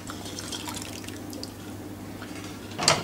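Fish stock trickles and drips into a simmering pinto bean curry in a pot, a soft liquid pour under low background hum that ends with a brighter splash near the close.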